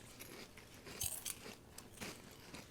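Close, crisp crunching and chewing of a chocolatey churro-like snack, a few sharp bites followed by softer chewing, heard alone without talk.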